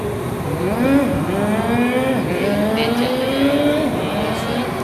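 A teacher's voice imitates a moving car's engine, a continuous rising drone that climbs in pitch in several steps like a vehicle gathering speed, close and fairly loud.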